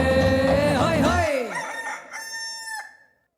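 A human voice mimics a rooster's crow at a children's camp program. Several rising and falling sung cries follow one another, strong at first and fading into thinner calls, with no other talk.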